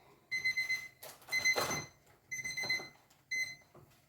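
A kitchen timer rings for cooked pasta, giving repeated bursts of shrill electronic beeping in uneven groups. It is fairly faint and close, with light kitchen clatter between the bursts.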